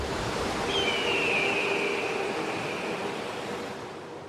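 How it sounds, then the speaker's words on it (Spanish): The Colorado River rushing along as a broad, steady roar of flowing water, loud and continuous, with a faint thin tone drifting above it before easing slightly toward the end. "Este es el río Colorado."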